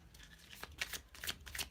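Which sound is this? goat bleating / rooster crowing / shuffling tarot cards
shuffling tarot cards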